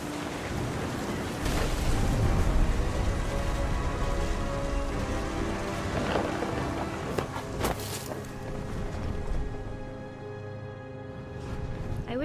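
Heavy rain pours and drums on surfaces in the What Remains of Edith Finch video game, with low rumbling thunder swelling and fading, loud and close throughout.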